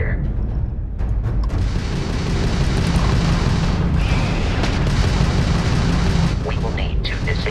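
Crimson Fleet ship weapons fire in Starfield as a dense, continuous roar of blasts and rumbling booms during a space battle, with a voice speaking over it.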